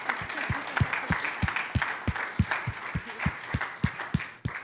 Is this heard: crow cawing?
no